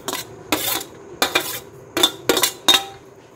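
Cut corn kernels dropped into besan batter in a bowl, six sharp clinking and clattering bursts at uneven intervals against metal, close and loud with quiet gaps between.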